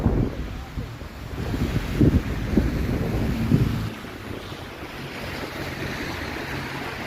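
Wind whipping between downtown condo towers on Toronto's Bay Street, a loud, steady rushing roar buffeting the microphone, swelling with gusts early and then settling into a lower, more even blow.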